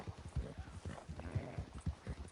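A horse's hooves clip-clop in a steady trotting rhythm in Red Dead Redemption 2, faint and fairly even, with around a dozen soft thuds and no speech.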